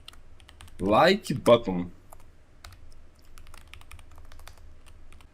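Fingers type on a computer keyboard while a JavaScript web project is coded; a brief spoken phrase comes first, then light, rapid, uneven key clicks continue quietly in the background.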